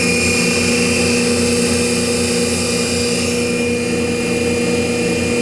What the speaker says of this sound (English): I'm going to go ahead and turn the motor on and crank it all the way to high